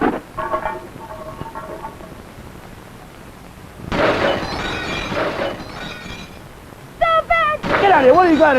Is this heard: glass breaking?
yes